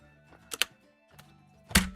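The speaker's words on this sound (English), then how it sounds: "I just accidentally slammed everything on my keyboard." Hands slam onto a computer keyboard in a live drawing stream, giving a few sharp clattering bursts: a quick double hit, a softer thunk, then a louder crash near the end, each separated by brief quiet.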